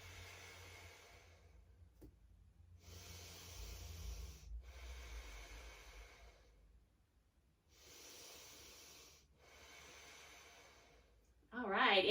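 Deep yoga breaths in a slow beginner session: several long, breathy inhales and exhales spaced by short pauses, close and soft, with a voice starting to speak at the very end.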